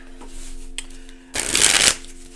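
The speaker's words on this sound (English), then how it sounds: "shuffle up one more clarifying deck" A deck of cards being shuffled, a brief crisp riffle burst of about half a second after some quieter handling and a light tap.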